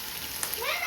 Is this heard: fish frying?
yes